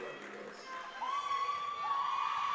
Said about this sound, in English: gets an earful from the crowd cheering her on